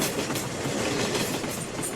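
A train running along a railway line, a close, continuous rumble with a rhythmic clatter of wheels, steady and loud throughout the short stretch.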